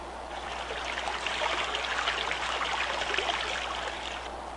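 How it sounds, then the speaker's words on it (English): Steady stream of water pours into a cylinder, a continuous rushing trickle at moderate volume that holds evenly throughout with no talk. "Now watch as we're filling up this cylinder with water"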